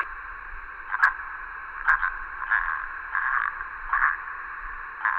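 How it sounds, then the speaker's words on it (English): Heavy radio static hisses in the visual novel game The Letter, a harsh band of noise that swells and crackles in uneven bursts, fairly loud and with no voices. "There's also heavy static coming from her side."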